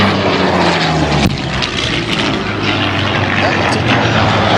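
A propeller-driven warbird fighter with a bubble canopy roars loud and close at the Sun 'n Fun 2012 airshow, its engine a dense, unbroken drone throughout.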